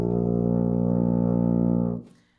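Tuba sounding an open B flat, one sustained low brass note held steady for about two seconds before cutting off, close and alone.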